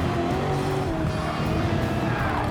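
Dodge Challenger in Gran Turismo 7 spinning its wheels under power, tires losing traction with a steady high squeal over a loud continuous engine roar, no pauses.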